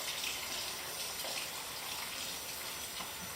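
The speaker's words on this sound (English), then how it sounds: "then we start getting a little water running" Tap water runs in a steady, even hiss at moderate volume throughout, filling for E6 film developing, with no voices and no change in flow.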